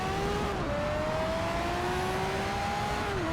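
Dodge Viper race car in Need for Speed: Shift roaring at sustained high revs, a steady loud engine drone with a slight pitch drop as it shifts, no voices.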